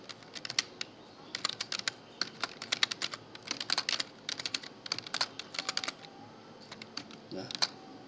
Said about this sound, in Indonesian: Sekarang kita ketik saja tipe.